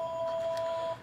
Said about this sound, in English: That's the phone.